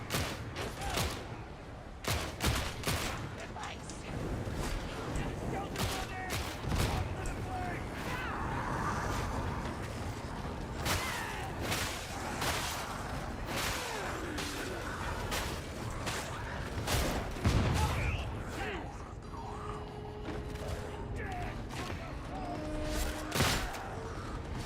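Gunfire in the game Darktide, sharp rapid shots cracking repeatedly over a busy mix of combat noise, with a player talking throughout.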